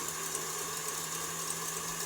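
An electric mixer beats a meringue mixture at high speed, a loud, steady motor whine with a constant buzzing drone and no talking over it.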